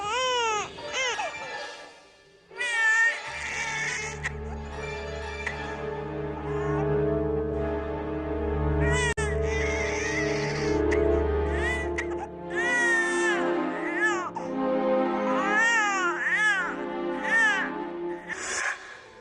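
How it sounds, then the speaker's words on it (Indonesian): A baby cries loudly and persistently in repeated harsh, wavering wails with short breaks between them, over a low steady hum. "Suara tangisan bayinya semakin keras"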